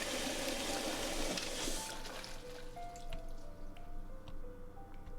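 A toilet flushes in the video game The Cat Lady: a loud rushing gush of water that fades after a couple of seconds into gurgles and scattered drips.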